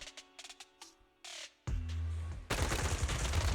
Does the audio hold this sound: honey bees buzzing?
no